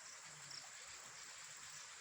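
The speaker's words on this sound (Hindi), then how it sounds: "और नीचे चश्मा बह रहा है" Clear spring water from a hillside flowing beneath a hill shrine, a soft, steady trickling stream heard faintly and evenly throughout with no voices.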